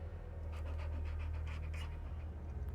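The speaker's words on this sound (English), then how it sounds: "I found the poor pup whimpering." A dog in the video game Hell is Us pants steadily and rapidly, close and clear, over a low droning ambient background, with no one speaking.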